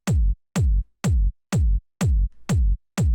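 A punchy, hard-hitting house kick drum tuned to G sharp repeats seven times at a steady tempo, each loud, deep thump starting with a crisp click and dying away fast, played solo.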